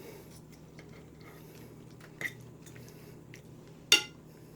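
Utensils scraping and clinking against a dish while tender roast beef is pulled apart, with a soft low clatter throughout and two sharper clinks, one near the middle and a louder one near the end.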